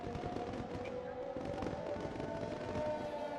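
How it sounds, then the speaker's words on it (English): Fireworks bursting over the Singapore night race in the F1 2020 video game, a dense crackling rumble of distant explosions blended with engine drone and commentators talking over it. "To see that under these fireworks is just amazing."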